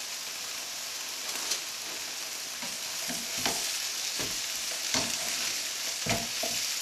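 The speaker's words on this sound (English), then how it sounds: "The spam's coming on quite nicely. I'm probably able to hear it sizzling away there." Spam slices frying in a pan give a steady hissing sizzle with scattered pops and crackles, close and continuous, with no voices.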